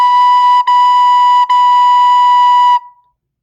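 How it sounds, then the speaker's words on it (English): A recorder sounding a steady B note with soft, gently tongued air, the tone broken by two brief articulations before fading out, clear and close with no voice. "When you add that onto the recorder, I'm just going to do it on B."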